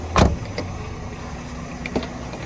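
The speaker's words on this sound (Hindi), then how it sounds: "गाड़ी क्योंकि पूरी लॉक कर देता हूँ" A car is locked with two distinct mechanical clunks, a loud one at the start and a fainter one about two seconds later, heard close over a quiet background hum without talk.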